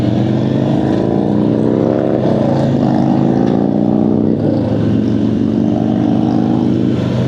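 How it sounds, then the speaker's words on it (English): A friend's motorcycle engine with a loud, steady exhaust drone heard up close on a Sunday group ride, the note rising and shifting slightly as it runs continuously throughout. "I do like the sound of Daniel's bike."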